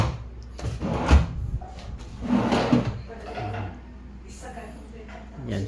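A drawer of a custom-built kitchen cabinet slides open and shut with a few wooden knocks and rumbles, while a person talks nearby.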